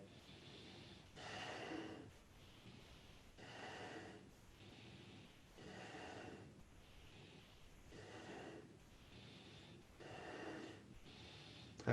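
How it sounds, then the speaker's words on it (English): Heavy, labored breathing during a Kundalini yoga exercise, with forceful rhythmic breaths and snorting exhales repeating steadily, close and moderately loud. "I'm noticing my breathing's getting a little more labored"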